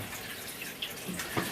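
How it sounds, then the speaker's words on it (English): Hot tap water runs into a sink, a soft steady splashing with faint trickles and small drips, heard alone at close range. "I need to run some hot water through in the sink right now"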